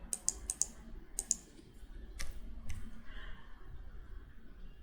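Sharp, quick clicks of a computer keyboard as a number is typed, a few separate keystrokes close by, then a brief pause and softer clicks against a quiet room.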